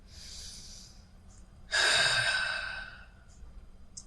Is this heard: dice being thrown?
no